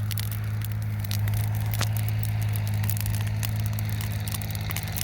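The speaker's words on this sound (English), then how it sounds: "Nice little bonfire." Small outdoor bonfire on a chilly night, crackling with scattered sharp pops over a steady low hum, continuous throughout with no talk.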